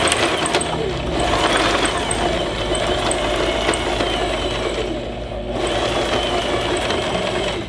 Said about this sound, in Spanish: lo que vamos a hacer es coser en la máquina